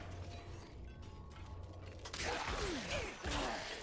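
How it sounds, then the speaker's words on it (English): A door in the dark fantasy game Diablo 4 swings open with a creaking, grinding mechanism and a heavy clunk, followed by echoing, whooshing creaks in a reverberant dungeon space. "Gotta open all the doors"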